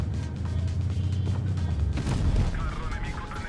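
Tank cannon fire in the Rhino Chavanne video game, a two-shot autoloader, booming over a low engine rumble with a sharp blast near the middle.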